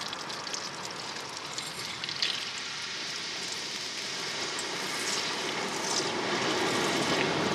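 Portable gas stove burning at low pressure while cooking at night on a winter beach, a steady close roaring hiss that holds level with slight swelling.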